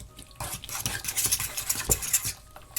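Tomato and peanut butter salad with lemon juice being mixed in a bowl: a busy run of scraping, clinking utensil strokes and wet stirring, close and fairly loud, with no talk.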